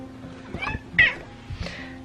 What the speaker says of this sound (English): This is my cat.